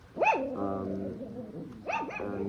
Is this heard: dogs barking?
yes